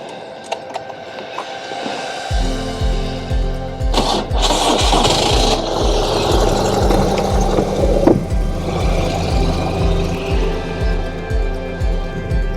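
A motorcycle engine fires up and settles into a steady, throbbing idle with a regular low pulse, close and loud, revving briefly as the ride begins on a cool day in the southern Ontario countryside.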